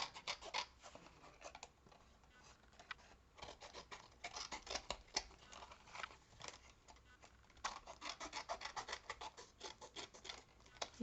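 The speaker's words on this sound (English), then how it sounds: "I'm going to use my Prima Distress tool" Prima Distress tool rasping along paper edges on a holiday craft project, a dense run of quick scratchy strokes in bursts, close and fairly loud, with a short pause midway.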